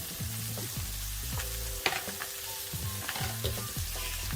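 Baby bella mushrooms fry in a pan while being cooked soft, a steady sizzle with repeated scraping stirs and clinking of a utensil against the pan, close and continuous with no talking.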